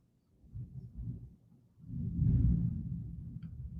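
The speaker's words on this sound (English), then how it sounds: "There goes that thunder again." Deep, rolling thunder grumbles in twice, a softer rumble first and then a longer, louder roll that swells and slowly fades, heard at a distance.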